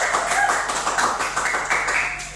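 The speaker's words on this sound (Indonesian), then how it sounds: "Boleh berikan aplaus untuk kedua narasumber terbaik kita" An audience claps steadily for two guests on a student podcast about university organisations, a dense, even patter of many hands that fills the whole moment, fairly loud and close.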